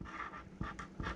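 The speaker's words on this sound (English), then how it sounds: "Don't listen to my dog. She's whining at me." A pet dog panting and whining softly nearby indoors, a few short breathy whimpers in quick succession.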